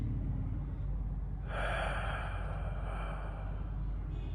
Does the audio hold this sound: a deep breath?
yes